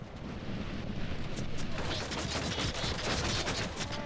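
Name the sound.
archers firing volley of arrows in LOTR video game battle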